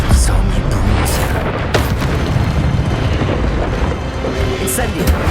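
Expelliarmus disarming spell cast in the video game Hogwarts Legacy against a bruiser enemy, a loud dense burst of magical impact amid continuous combat noise, with booming hits layered through the whole stretch.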